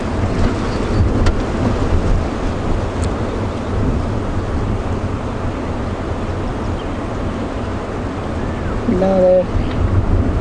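Strong wind roars steadily across the microphone on an afternoon safari drive at Djuma Game Reserve, a broad continuous rumble lasting throughout, with a brief voice and a short tonal call near the end.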